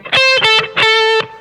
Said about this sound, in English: 13th fret of the B string, that's our flat third note